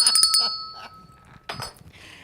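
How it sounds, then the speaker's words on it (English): A hand bell is struck to open a show, ringing several quick bright strikes in a row, then one more clear ring after a short pause; it is close and alone. "That's why I start the show with a bell."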